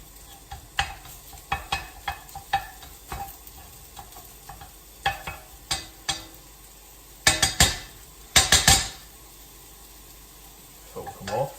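Turkey mince being stirred and broken up in a hot frying pan, with soft sizzling under repeated scraping and clattering strokes of a utensil against the pan, a few louder clusters of clanks near the end.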